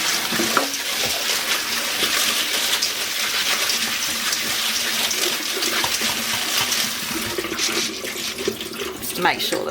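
Split peas washed under a running tap, a steady close gush of water pouring throughout with faint clattering and no talking.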